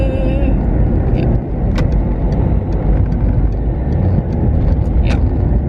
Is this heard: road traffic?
yes